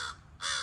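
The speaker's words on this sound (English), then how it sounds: "as soon as you see a crow, you're all excited" A crow caws twice, close by and clear, with a brief gap between the harsh calls and no voices over them.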